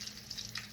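Pork chops frying in a pan give a steady, close crackling sizzle with small popping spatters throughout the brief moment, and no voices.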